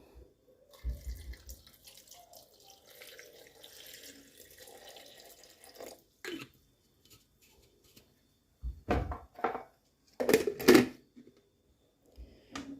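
Water is poured into a glass holding cut prickly pear for juice, in a few short splashing bursts separated by quiet gaps, with light clinks and handling noises.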